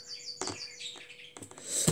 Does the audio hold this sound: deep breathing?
no